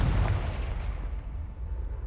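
Confringo fire spell exploding in the video game Hogwarts Legacy, a loud, deep blast with a rumbling low-end tail that fades slowly over about two seconds, alone without talk.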